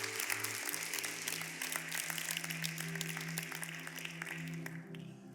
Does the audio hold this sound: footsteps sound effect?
no